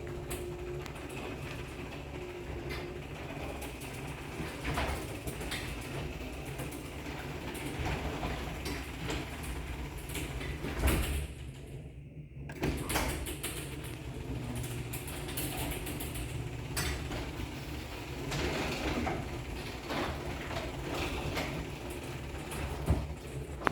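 A Genie garage door opener hauls a large garage door, a steady mechanical rumble and rattle running for about twenty seconds with a brief clunk near the middle, close and continuous.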